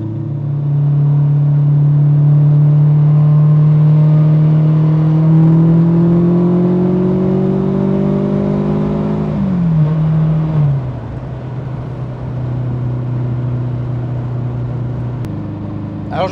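Rally car driven hard through a bend, its engine droning loud and close at steady revs, then pitch falling away as the car eases off and settles into a lower hum.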